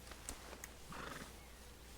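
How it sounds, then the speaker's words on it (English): A horse in Red Dead Redemption 2 gives a brief, faint whinny close by, with a couple of light hoof clicks, over a steady low background hum. "But I do kind of like this horse."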